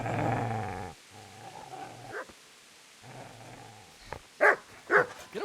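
A dog growls and snarls in the video game Kingdom Come Deliverance, a low rumbling growl early on, then quieter stretches broken by sharp, loud yips or barks near the end.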